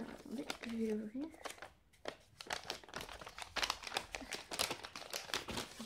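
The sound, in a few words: opening a wrapped gift package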